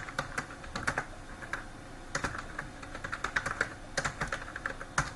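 Java code being typed on a computer keyboard: a fast, irregular clatter of close keystrokes in short bursts with brief pauses, no voices.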